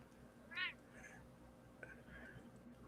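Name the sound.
hungry pet cat meowing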